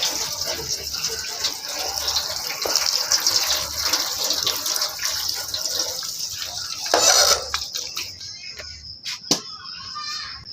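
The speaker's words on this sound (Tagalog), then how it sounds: "Hugasan itong gulay guys para malinis." Tap water gushes steadily while vegetables are washed at home, a loud continuous splash with the flow shifting and breaking into clattering handling sounds near the end, without speech.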